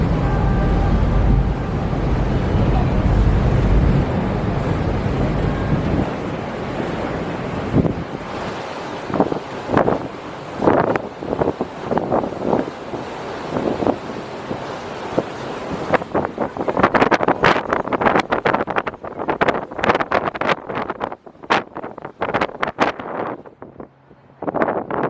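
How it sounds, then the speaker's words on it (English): Wind buffets the microphone over rushing water and surf on a ferry crossing the bay toward San Francisco's Ferry Building, a strong steady roar that later breaks into gusty, choppy bursts. "I always do love a good ride on the ferry"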